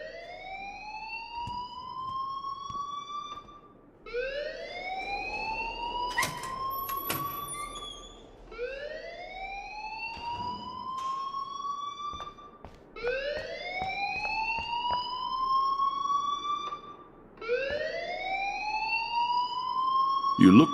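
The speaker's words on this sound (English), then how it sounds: "please turn off that alarm since that's your job" A rising, repeating electronic alarm wails in Life Is Strange, with five long upward sweeps at a steady pace, loud and continuous and close by, under fainter background talk.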